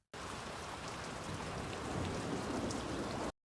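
Heavy rain pours in a dense, steady wash with a low rumble of thunder building underneath, starting and stopping abruptly, in a rainy night scene from a yakuza film.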